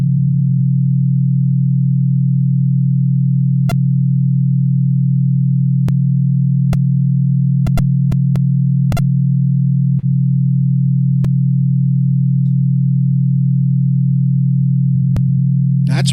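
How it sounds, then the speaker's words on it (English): A steady 40-hertz low-frequency sine tone hums loudly and continuously throughout, broken only by a few faint clicks. "This is 40 hertz, and this is the sound it's going to make to kind of help you resonate"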